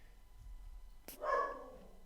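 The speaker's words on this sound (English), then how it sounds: "Oh my god, that dog is so noisy." Dog barking somewhere in the house, a single faint sharp bark heard at a distance over a quiet room, with no speech.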